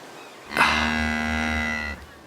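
A cow gives a single loud, drawn-out moo lasting over a second, harmonic and sustained before cutting off, with no talking around it.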